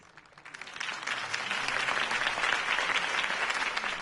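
Applause from a crowd in the Batman Telltale video game swells quickly from quiet clapping into a steady, dense ovation that holds for several seconds.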